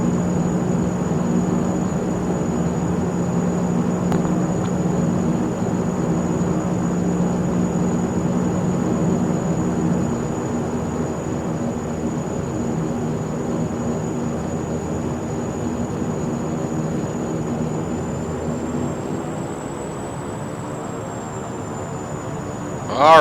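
Saab 340A turboprop airliner taxiing in the X-Plane 11 flight simulator, a steady engine drone with a constant high whine that holds on and shifts slightly near the end.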